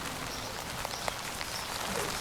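Steady rain patters on an outdoor garden surface during a spell of painting with anti-slip paint, a dense continuous hiss with a few brighter drop ticks and no voices.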